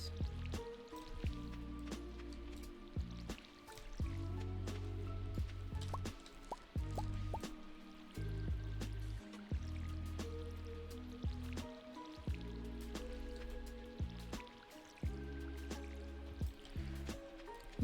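Watering crops in the farming video game Stardew Valley, repeated short splashy pours and drips in a regular rhythm over a soft tonal game music bed, quiet and even.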